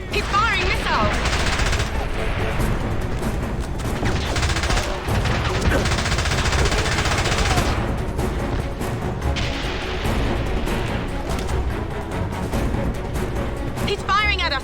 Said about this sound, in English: He's firing at us! Pomrov's firing at us!